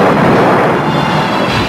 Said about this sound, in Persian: این یک رعد و برق معمولیه